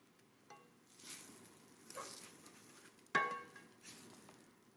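An egg drops into a hot pan over a chorizo hash and starts to sizzle, with soft hissing swells and one sharper crackling burst partway through, fairly quiet and close.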